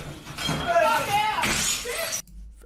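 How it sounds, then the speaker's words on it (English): Glass objects thrown and smashing in repeated shattering crashes, with bright breaking fragments over a couple of seconds, then cutting off abruptly; a voice is heard alongside the crashes. "there is a lot of glass being thrown here"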